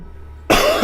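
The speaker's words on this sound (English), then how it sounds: "I'm just coughing like crazy" A single harsh cough bursts out close to the microphone after a quiet moment, from a gamer playing Magic: The Gathering Duels 2015 who keeps coughing.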